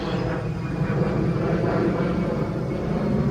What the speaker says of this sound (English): Here comes a jet. We're right near the UPS airport.